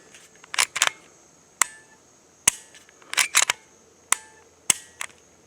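Canik TP9 SFX striker pistol trigger working, sharp close metallic clicks in small clusters and single snaps of the trigger breaking and resetting, loud against near silence.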